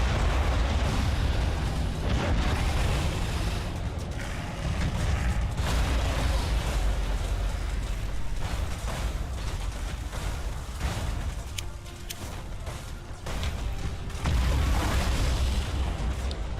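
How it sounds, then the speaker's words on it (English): Thunderhawk bombardment in the space strategy video game Battlefleet Gothic Armada II sets off a dense, continuous barrage of booming explosions and crackling bursts, heavy and loud throughout. "Initiate Thunderhawk bombardment."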